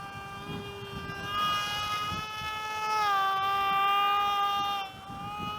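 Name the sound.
airplane flying overhead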